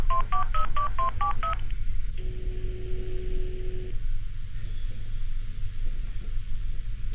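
A telephone number is dialed in a quick run of touch-tone beeps, followed by a long single ringback tone and then quiet line hiss with no answer, over a steady low hum.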